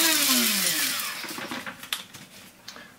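An electric grinder working on coriander seeds, whirring loudly at first and then winding down, followed by sparse rattling clicks of the seeds settling inside.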